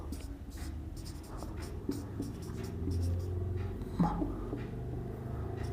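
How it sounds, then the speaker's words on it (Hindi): A pen or marker writes a short word on a board during a Hindi history lesson, with faint scratchy strokes and taps close by under a low room rumble. "तो इसमें लिख लेते हैं हम बर्मा।"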